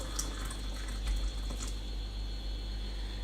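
Water tipped slowly into a pita wrap dough mix, a steady, quiet liquid pour with faint splashy flickers running throughout at close range, no voices over it.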